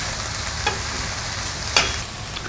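Turkey bacon and noodles sizzle in a saute pan, a constant frying hiss with a couple of brief stirring scrapes, close and steady with no talking.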